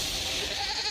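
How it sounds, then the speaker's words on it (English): A single drawn-out goat bleat, loud and close, wavers for about a second as a sound-effect stinger for a movie countdown show. "Sound of the Goat means it's time for the Movie Show Top 10"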